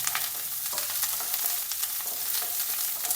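Sliced onions and curry leaves frying in oil in a pan, a steady bright crackling sizzle with scattered pops, close and continuous, with no voices.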